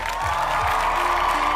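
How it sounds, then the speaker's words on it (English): A crowd at a live show claps and cheers for a while, making a dense, continuous wash of applause with some whoops and voices mixed in. "All right, hand claps."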